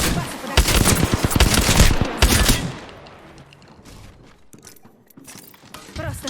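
Video game gunfire: dense, loud bursts of rapid shots for about two seconds, then quieter scattered shots and distant firing further back.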